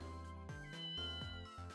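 A cartoonish cat meows repeatedly in the Ghost Trick: Phantom Detective video game, a series of short tonal mews in quick succession, clear and up front.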